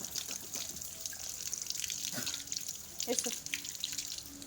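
Tap water runs and splashes into a sink while someone rinses their mouth and gargles with warm water mixed with salt and turmeric, dripping and trickling close by under a brief spoken word.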